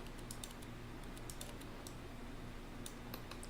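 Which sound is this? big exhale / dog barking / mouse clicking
mouse clicking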